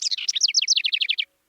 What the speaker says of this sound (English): You hear that, you know that there's a house wren nearby